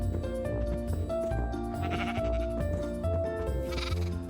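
Video game sheep bleat repeatedly around a pen holding three sheep and a cow, overlapping loud bleats over a continuous game music bed, close and busy with no talking.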